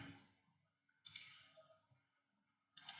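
A few sharp mouse clicks on on-screen buttons while working in the AWS console, two distinct clicks separated by quiet, close and crisp.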